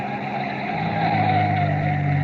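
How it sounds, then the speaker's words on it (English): A single car on a lonely dirt road, a steady close engine drone with tire noise that holds and swells slightly as it slows, a radio drama sound effect with no voices. "a single car slows to a stop"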